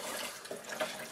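Chia seed water with hibiscus being strained and swirled into a vortex, a continuous close splashing, trickling pour with a couple of brief sloshing surges near the end.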